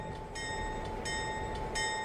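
Video-game train pulling into Wilmot station, a steady low rumble of rolling cars under a constant tonal whine, with faint high squeals surfacing in short repeated bursts.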